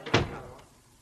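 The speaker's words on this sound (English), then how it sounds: "Close the door, MacDonald" A single door shuts in an office with a solid thunk, a loud close impact followed by a short fading room tail, heard alone without voices.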